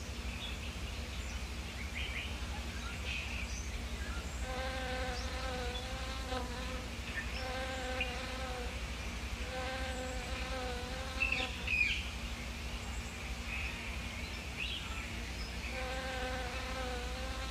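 Lemon robber bees (Lestrimelitta limao) at their nest give a close, steady insect hum, with repeated bursts of higher buzzing wingbeats rising and fading over a constant low drone.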